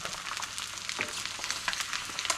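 Duck eggs fry in butter in a pan over high heat, giving a steady crackling sizzle with frequent sharp pops and spits, close and continuous throughout.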